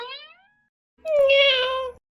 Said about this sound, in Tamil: ஆனா பக்கத்துல வேற பூனை நிக்குது